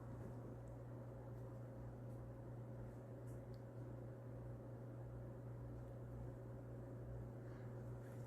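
A Murray Feiss ceiling fan motor hums low and steady as it slowly works up to high speed, faint and continuous with a soft airy hiss and no voices.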